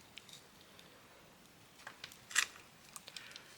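Scissors snipping through scrap fabric of free-motion stitching, a few soft, isolated cuts with one sharper snip in the middle, close and quiet.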